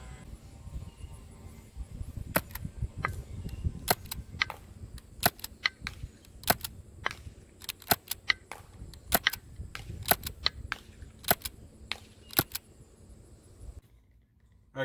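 SSX23 TriFecta airsoft gun firing from about 100 feet away, a string of sharp isolated snaps at irregular intervals over a quiet background, ending with a sudden cut to silence.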